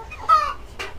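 An olive egger chicken clucks close by, a short rising cluck followed by a brief second call, loud and alone.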